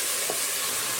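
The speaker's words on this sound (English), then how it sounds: "Now, see how I'm stirring it quickly?" Flour cooks in a pot of Swedish fish soup and is stirred quickly, making a steady, close hissing and scraping wash with no pauses and no talk.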